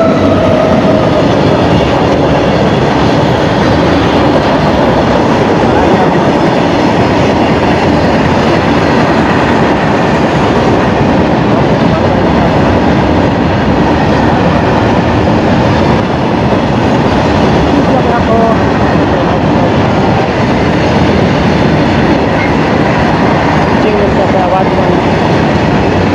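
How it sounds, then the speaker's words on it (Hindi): A local train at a village station in Jharkhand runs steadily with a loud, continuous rumble and rattle of carriages, heard close and without pause the whole time. "local train"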